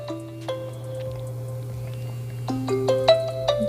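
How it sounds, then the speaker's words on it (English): A smartwatch's find-phone feature sets the paired phone ringing: a melodic ringtone chimes in clear, stepped tones, sparse at first and then quicker and brighter, over a steady low hum, with no talking. "So when you hit this button, your phone will start to ring"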